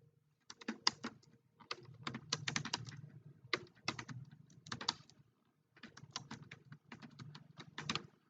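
Computer keyboard typing while someone writes HTML code, heard as quick bursts of close keystrokes with short pauses between runs, no voices.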